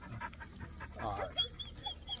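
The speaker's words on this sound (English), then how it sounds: "So there we go, little killer dog. Come and check out my golden doodle." A golden doodle dog pants close by in quick, breathy bursts, with a brief whimper partway through, over a faint background murmur.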